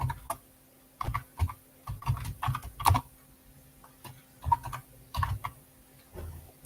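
Typing on a computer keyboard while writing JavaScript code, bursts of close, crisp key clicks in irregular clusters with short pauses between them, no talking.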